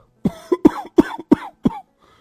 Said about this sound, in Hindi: तभी खटिये पर से बूढ़ा रामा खांसते हुए बोला,